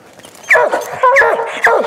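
A cur dog and hunting dogs, including a Walker hound, bark at a treed possum or raccoon, with several loud, close yelps and bawls in quick succession.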